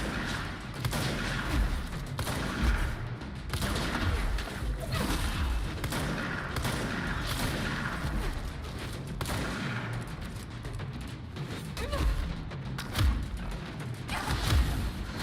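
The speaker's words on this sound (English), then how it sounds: "that's a sniper" Sniper shots and scattered gunfire crack across a busy, dense mix of combat noise in the third-person action game Control, steady and moderately loud throughout.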